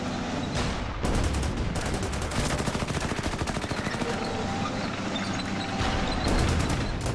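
Panzer tanks firing on a concrete bunker in the strategy game Order of Battle, in a Cairo sandstorm battle: dense, continuous rapid gunfire and explosions at a steady loud level, with no talking.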